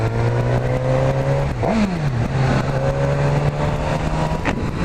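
A 2016 Suzuki GSX-S 1000 motorcycle engine holds a steady, throaty idle, then blips upward in a quick rev and settles back down, running close and loud without any talking.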